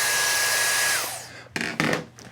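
A blow dryer runs loud and close with its heat setting on, a steady whooshing roar that winds down after about a second, followed by a few bumps and clicks as it is handled.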